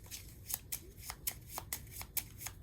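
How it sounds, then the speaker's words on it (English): A deck of playing cards being shuffled during a tabletop card game, heard as a run of quick riffling bursts that repeat roughly every half second, close and fairly quiet, with no voices. "then I shuffle my deck"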